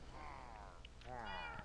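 Two drawn-out meows from a cat in the Minecraft video game, a rising-falling cry followed by a second one after a brief gap, faint and close.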